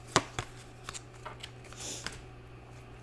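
Tarot cards are shuffled and pulled close by, with a quick riffle near the start followed by scattered soft taps and slides of cards being handled in a quiet room.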